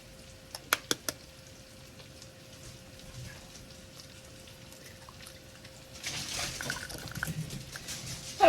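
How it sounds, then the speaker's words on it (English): Eggs cracked one at a time against the side of a mixing bowl for a make-ahead breakfast, giving three quick sharp taps close together near the start, then quieter kitchen handling and faint rustling. "I just hit it on the side of the bowl and crack it that way"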